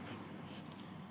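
Pen writing on paper as figures are jotted down during a maths lesson: a faint, steady scratching that runs for about a second with no voice over it.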